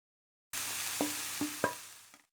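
Masala and cooked fish roe fry in a pan over a low flame, a soft close sizzle broken by three or four scraping stirs of a spoon.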